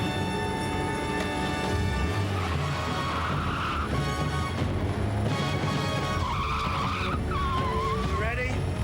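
A motorbike skids hard during a movie stunt leap, with a steady roar of engine and tire noise running throughout and voices talking over the action.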